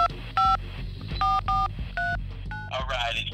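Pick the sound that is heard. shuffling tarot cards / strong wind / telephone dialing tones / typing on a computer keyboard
telephone dialing tones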